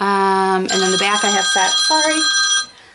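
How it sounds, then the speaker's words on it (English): A mobile phone ringtone plays a bright, repeating tonal melody loudly throughout, with a person talking over it before the ringing cuts off near the end. "that's my phone ringing, sorry guys"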